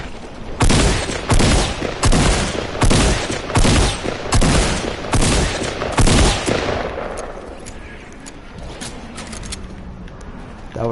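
Fortnite gunfire rings out in a rapid series of loud, sharp shots at close range, roughly a dozen bursts in quick rhythm, then fades into a quieter stretch with faint distant pops.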